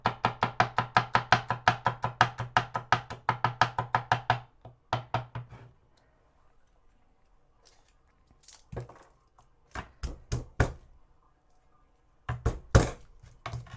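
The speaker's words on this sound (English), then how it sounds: "I'm going to grab a couple of cloves of garlic, and I like to give it a smash with the knife." Garlic cloves smashed with a kitchen knife on a board: a fast run of sharp, evenly spaced knocks, then a pause and a few scattered heavier thuds, loud and close with no talking.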